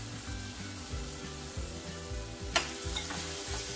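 Bell peppers, tomato, green capsicum and zucchini fry in a pan as a spoon stirs them, giving a steady sizzle with a rhythmic low scraping and one sharp clink near the end.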